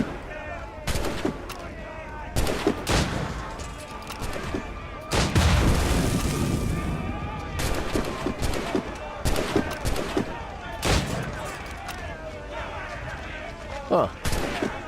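Repeated gunshot bursts from Assassin's Creed Rogue gameplay, loud sharp cracks and volleys scattered through the scene with a heavier blast near the middle, over game ambience and occasional voices.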